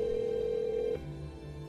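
A telephone ring tone sounds as a steady electronic tone for about a second, then cuts to a quieter, low pulsing tone, with no voices.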